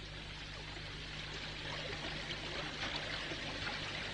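Steady river water flowing beside a low constant hum, a soft continuous wash with trickling texture, faint and unbroken.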